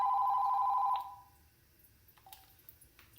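A telephone rings with an incoming call, a single loud electronic ring tone that stops after about a second, followed by faint clicks and handling sounds.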